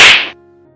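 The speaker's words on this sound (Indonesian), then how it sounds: "Sebuah tamparan keras mendarat di pipi laki-laki tegap itu" A single hard slap lands on a man's cheek, a sharp loud smack that cuts off quickly and leaves near silence behind it.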